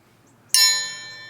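A single bright bell ding strikes sharply out of near silence and rings on, its tone slowly fading.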